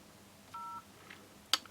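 A 1993 Philips PR 800 GSM brick phone gives one short dialing tone, followed a moment later by a single faint beep and a brief sharp click, with nothing else around it in a quiet room.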